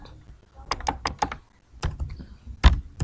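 Password being typed on a computer keyboard during setup of a simulated video-surveillance system, a close series of distinct key taps in quick bursts separated by short pauses.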